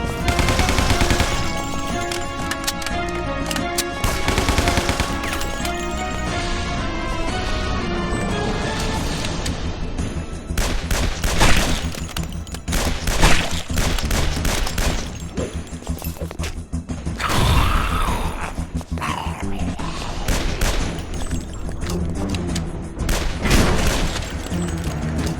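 Gunfire in the video game Guns, Gore and Cannoli: loud, sustained bursts of rapid machine-gun and rifle shots over game music and mechanical clatter, with crashes and intense volleys throughout and no talk.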